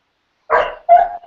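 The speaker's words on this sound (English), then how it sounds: "I got my dog acting up here." A dog at home gives two sharp, close barks in quick succession, the second followed by a short trailing whine, with silence before them.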